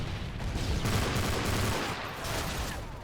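Dense, steady gunfire in the Modern Warfare 3 video game, with burst-fire Dragunov rifle shots among continuous shooting that fills the whole stretch at a constant loud level.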